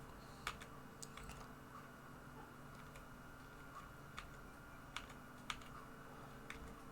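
Faint, sparse key presses on a computer keyboard, a handful of light clicks scattered irregularly over several seconds against a low steady background hum.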